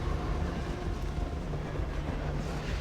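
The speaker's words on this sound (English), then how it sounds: "we still got to see them get hit by a train" A train rolls through in the Xbox Buffy the Vampire Slayer game, striking enemies; it gives a continuous, loud rumbling rail roar with steady low clatter and no voices.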